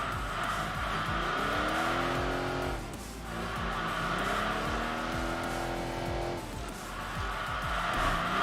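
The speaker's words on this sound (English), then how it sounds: "We're basically completely drifting all the way through London." A Corvette in Enthusia Professional Racing slides through London streets, its engine droning loudly while tires squeal in long wavering screeches that rise and fall through repeated drifts, briefly easing before building again.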